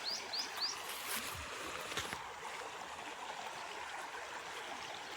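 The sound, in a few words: river water flowing in a block-building video game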